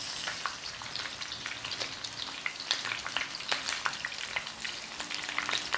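Steady close sizzling of beef adobo frying in a pan after oyster sauce goes in, a dense crackle with sharp pops and no talking.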